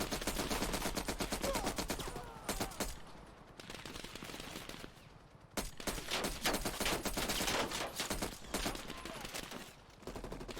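Rapid gunfire in Call of Duty Black Ops Cold War, with dense automatic bursts and sharp shots going almost nonstop and briefly dropping into short lulls.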